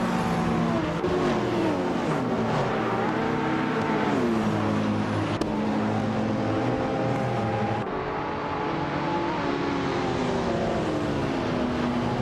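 A pack of race cars, led by a 1987 Ruf CTR Yellowbird, roar away together in a video game race, their engines droning loudly and steadily with layered shifting pitches and gear changes throughout.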